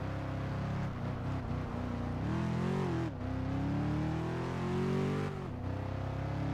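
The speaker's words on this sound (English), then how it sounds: "I am driving my favourite car again" A car in the video game Test Drive Unlimited 2 holds a loud, steady engine drone. Its pitch climbs as it accelerates, briefly drops at a gear shift, then rises again, with no talk over it.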